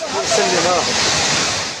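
A loud, continuous rush of floodwater pours through the streets of Safi, Morocco, a dense churning wash heard close by, with faint voices blurred beneath the flow.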